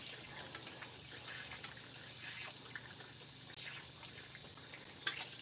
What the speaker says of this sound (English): Now we are using warm water when we're rinsing her.